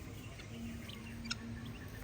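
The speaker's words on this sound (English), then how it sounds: "Look at these birds just eating through the rice fields." Birds feeding in rice fields give faint, scattered chirps and calls against a steady outdoor background hum, with one sharper call standing out near the end and no talking.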